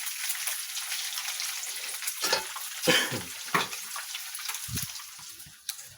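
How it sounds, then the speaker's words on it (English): Bacon frying in a pan, a steady crackling sizzle with scattered pops and spits throughout, close and moderately loud. "I'm making bacon."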